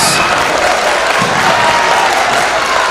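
A crowd in a gym cheers and applauds at a school wrestling match, a loud, dense, continuous roar of clapping and shouting that fills the whole moment without a break.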